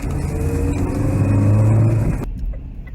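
Old vehicles from 1985 roll past a snowy roundabout at the bottom of Gilesgate Bank in Durham, a steady close engine drone with a swelling pass before it cuts off sharply.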